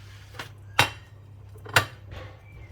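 Freshly baked mini cakes are set down onto a plate, producing two sharp clinks of ceramic with a softer knock before each, close by and with no voices.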